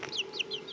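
Close, short clucks and chirps from a chicken held in the hand, a few brief calls over a low steady murmur, with no talking.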